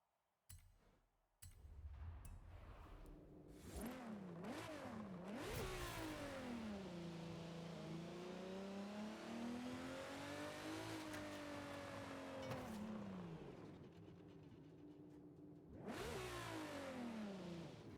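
Car in Forza Horizon 5 with a slipping clutch and an overly long first gear, engine revving hard and climbing slowly in pitch over a long pull, then dropping and surging again near the end, loud and close.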